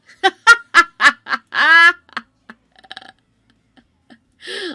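A chicken gives a close, loud run of rapid clucks and a drawn-out squawk, then quieter scattered clucks and a final burst.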